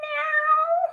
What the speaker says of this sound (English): I heard your cat in the background.